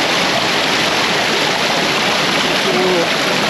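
A creek rushes over rocks close by in Washington State, a loud, steady wash of flowing water with no pauses and no voices.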